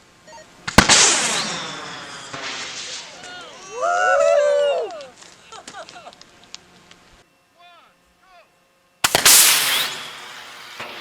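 A two-stage water rocket pressurised to 1000 psi launches with a sharp, loud burst of air and water, followed by excited shouting and cheers, then a second loud rushing burst near the end.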